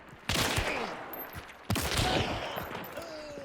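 Two loud gunshots from Hunt: Showdown, roughly a second and a half apart, each followed by a long rolling echo and scattered distant rattling, with no talking.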